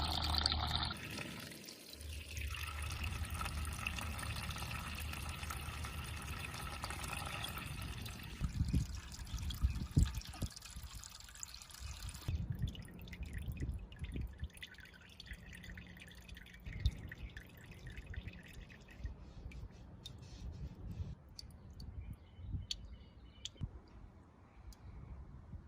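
Coolant from a Mercedes-Benz E320 W210 radiator drips and trickles into a catch container, a steady patter at first that thins to sparse, slow drips with faint clicks.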